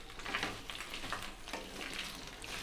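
Chopped okra (bhindi) stir-fried in hot oil for masala bhindi do pyaza, giving a steady close sizzle and crackle with soft scraping bursts as it is stirred, no talk.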